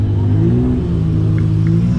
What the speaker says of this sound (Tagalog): Lupit talaga pag drag racing.